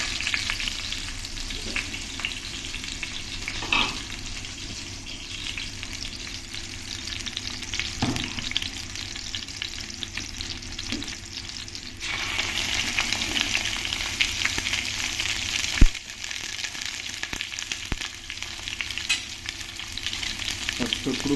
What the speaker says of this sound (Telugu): పచ్చిమిరపకాయలు వేగేటప్పుడు తక్కువని ఉంటాయి, చూసుకోండి